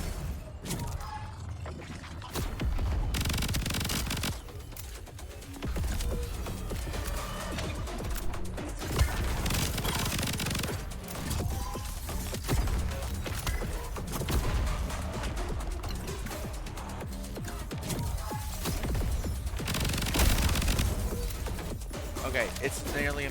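Gunfire in the solo-developed roguelike FPS video game VOID//BREAKER: dense, rapid bursts of shots and impact crashes pile up continuously throughout, with a voice talking over the action.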